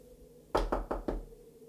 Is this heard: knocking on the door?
yes